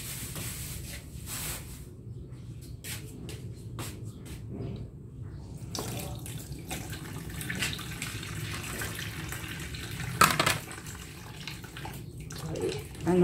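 Fish, freshly bought for a home-cooked sinigang miso, being rinsed under a running kitchen tap, a steady close wash of water with occasional splashing and rubbing, and one sharper splash near the end.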